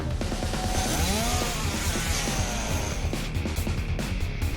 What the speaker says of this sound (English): Enraged by the kick to the face, Hitomi brandished her chainsaw with bloodshot eyes.